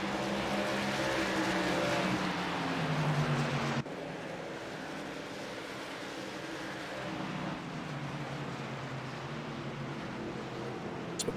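Pulling trucks racing around Phoenix Raceway in a Triple M Pulling Truck Series event, a steady dense engine roar with rising pitch sweeps as trucks pass, then a sudden drop to a lower continuous drone of engines circling the track.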